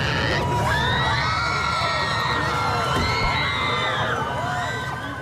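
A dense crowd gathered outside a courthouse during a celebrity trial screams and cheers continuously, with high shrieks and whoops rising over a steady loud roar throughout.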